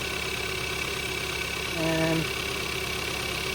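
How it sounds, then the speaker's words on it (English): A Kia Soul 1.6L engine idles steadily just after a head gasket replacement, a constant mid-pitched hum throughout with a brief tonal whine partway through; a voice speaks a single word over it. "these engines run pretty smooth"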